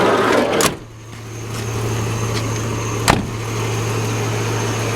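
A Nissan Quest minivan engine idles steadily with a low, even hum, interrupted by a door thud early on and a brief sharp click near the end.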